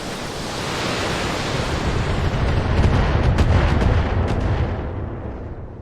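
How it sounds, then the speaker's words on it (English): Artillery bombardment in the mech combat game Battletech: a steady, heavy low rumble of distant shelling with muffled booms swelling through the middle, continuous and dense with no voices. "Okay, a little bit of bombardment."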